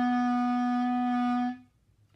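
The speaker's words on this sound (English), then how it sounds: "C sharp sounds like this" A single sustained clarinet C sharp held steadily for about a second and a half, then cut off, with nothing else playing.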